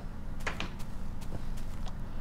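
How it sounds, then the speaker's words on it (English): Steel door in Minecraft swinging open with a couple of short clunks and creaks, faint over a steady background hum. "Going out the back door here, another steel door"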